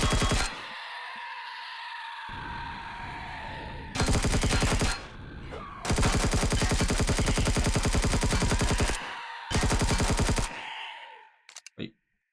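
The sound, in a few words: gunfire in the video game Empyrion Galactic Survival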